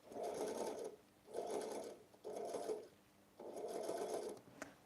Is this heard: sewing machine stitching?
yes